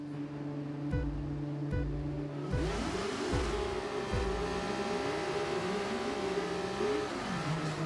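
An F2 race car in F1 25 revs at the start, engine note climbing and dropping in rapid rising sweeps as it accelerates off the line, loud and continuous with no talk.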